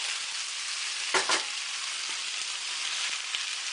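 Chopped roasted peppers and artichoke hearts sizzle with onions in a hot pan, giving a steady, dense frying hiss throughout, broken by a couple of brief scraping stirs partway through.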